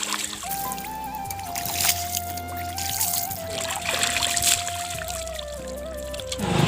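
Water is poured during a bath, giving a continuous trickling and splashing flow with a steady musical tone running over it.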